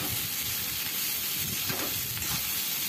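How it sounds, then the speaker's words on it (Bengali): Rice frying in a pan with salt and turmeric gives off a steady, close sizzle and hiss with faint stirring scrapes, and no voices. "আর এবার আমি এটাকে ভালো করে একটু ভেজে নেব।"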